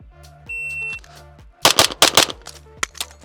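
Pistol shots in a fast shooting drill: a tight burst of several sharp, loud reports in quick succession, following a stretch of steady electronic beeping and tonal hum.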